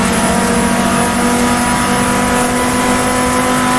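Race car engine in GTR2 video game holding a steady, loud, dense drone through a downhill run, continuous with no pauses and no talking over it.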